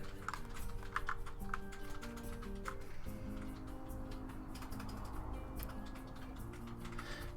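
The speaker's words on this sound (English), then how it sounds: "That tappity-tap is my mechanical keyboard." Fast, steady clicking of a mechanical computer keyboard being typed on, close and continuous over a background of game music.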